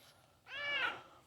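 A pet cat lets out a single clear, rising-and-falling meow close by, about half a second long, in an otherwise quiet space.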